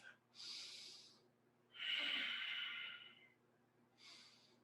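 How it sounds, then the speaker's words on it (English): Slow, deep yoga breaths drawn in and let out through the nose, three airy breathy swells, the middle one longest and strongest, close and quiet with no talking. "Nice deep inhalations."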